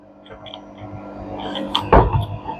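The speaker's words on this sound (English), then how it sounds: "Now we will close the door properly again." Panasonic washing machine door swinging shut, ending in one firm, close thud-like latch after a brief rustle of handling.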